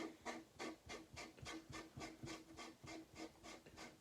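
A Midwest Industries Combat T Series handguard rasps rhythmically as it is threaded onto an AR upper receiver, with even repeated scraping strokes up close and no talk.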